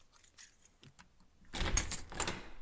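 Keys jangle and scrape at a door lock in a few soft clicks, then a louder burst of metallic rattling as they are fumbled at close range, with no talking.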